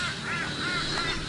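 A bird gives a faint, brief honking call, somewhat distant, with a breathy hissing edge and no voices over it.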